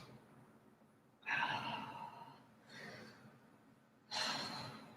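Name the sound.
deep breaths during yoga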